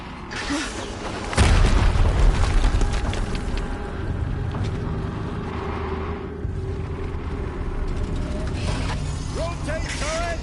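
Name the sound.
explosion in the video game Horizon Zero Dawn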